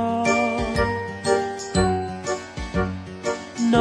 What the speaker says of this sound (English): Noddy, his tinkling bell means he's the happiest little fellow in all Toyland